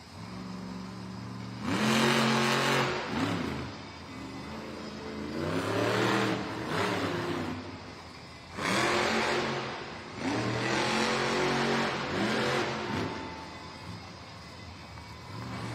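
El Toro Loco monster truck revving hard inside a Monster Jam arena in Duluth, Georgia, with four loud, surging bursts of engine roar separated by brief lulls, over a constant crowd background.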